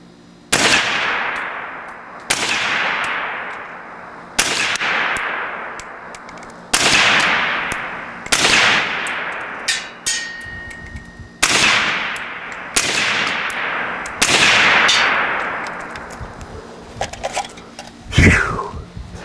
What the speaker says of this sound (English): So let's take a couple rounds downrange and let you guys watch this.